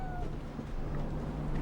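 Mrs. Chippy, a ship's cat aboard Shackleton's polar expedition vessel, gives a short, faint meow at the start over a steady low hum of the ship's interior.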